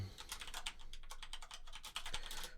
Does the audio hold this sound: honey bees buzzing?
no